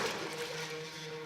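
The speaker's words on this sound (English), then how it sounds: "feel free to turn the shaver on, drop it in, and see how it goes." A battery electric shaver hums steadily after being dropped into a bucket of water on the floor, its motor drone continuous and close for the whole moment, with no talk over it.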